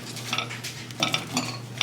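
Seasoned pieces of pork being tossed and stirred with salt and pepper in a bowl or pan, a steady close scraping and rustling with a few louder clinks of utensil against dish.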